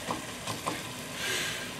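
Onion and shallot softening in butter with a pinch of salt give a soft, steady sizzle, with a few light stirring clicks early on and a brighter hiss swelling near the end, no voices.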